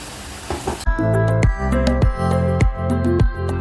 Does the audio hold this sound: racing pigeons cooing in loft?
no